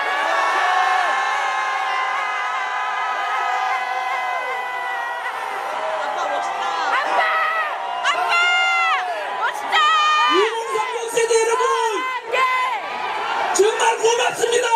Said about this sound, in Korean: 고함만 외쳐주십시오